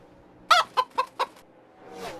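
A chicken clucks four times in quick, punchy bursts, then a softer drawn-out cluck trails off, close and clear over quiet background.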